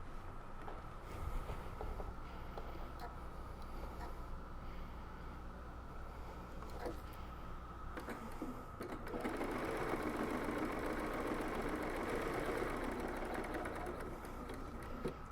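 A sewing machine stitches steadily around the edge of a reusable fabric makeup remover pad, its continuous motor hum briefly pausing near eight seconds before resuming slightly louder and busier.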